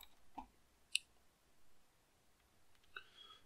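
A few faint, sharp computer mouse clicks, isolated and spaced apart, against a quiet background.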